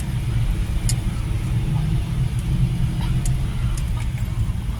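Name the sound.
cars in SM Mall of Asia north parking lot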